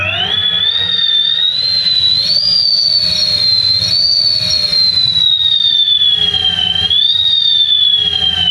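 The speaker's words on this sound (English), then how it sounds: "I've never really heard a motor that sounds like that" E-bike electric motor driven by a Far Driver controller with its tune off, running on a bench: a loud, continuous high-pitched whine that rises and falls slightly in pitch over a faint low hum, heard alone.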